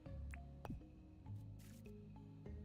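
Watering crops in the farming game Dinkum gives a few quick wet squelching drips, soft and brief, over a low layer of background game music.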